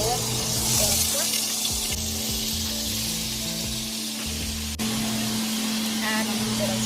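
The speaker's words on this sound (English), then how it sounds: "I'm going to put the pork." Pork sizzling in two to three tablespoons of canola oil in a pot, a steady bright crackle and hiss, close up, with someone talking over it.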